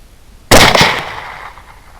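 A single sharp rifle shot cracks out at an armadillo 65 yards away, a loud sudden report with a short rolling echo that fades within a second, with no talking.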